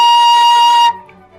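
A single sustained flute B flat, steady and clear with a bright tone, held for almost a second before cutting off, leaving a faint low hum behind.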